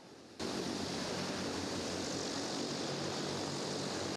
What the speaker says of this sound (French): tous embarquent à bord de cet avion pour un exercice de saut en parachute